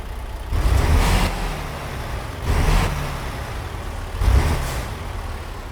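A Peterbilt 389 with a Caterpillar engine, in a truck-driving game, cranks and starts with loud engine roars that swell in three bursts and settle to a steady idle rumble between them.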